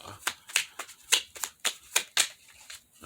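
Fluxx cards being shuffled by hand, a run of crisp riffling bursts in irregular rhythm, close and fairly loud with no talk.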